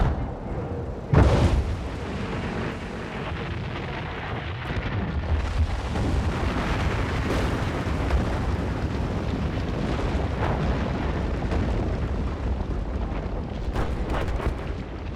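In Battlefield 4, explosives bring down a massive concrete dam: a sharp blast opens a long, loud, rumbling roar of collapsing structure and crashing debris that keeps rolling with scattered booms.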